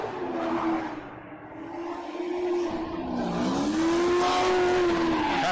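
BMW E82 drift car in a pro-am drifting qualifying run, engine revving high with a wavering pitch and tires squealing steadily as it slides, loud and continuous without talk.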